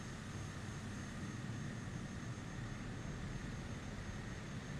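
A Cessna 208 B turboprop engine at takeoff power in Microsoft Flight Simulator, a steady, loud, unbroken roar with flaps at 50 and no pauses.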